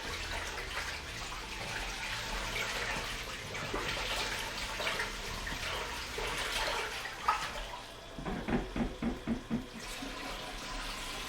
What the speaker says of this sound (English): Put the water in here.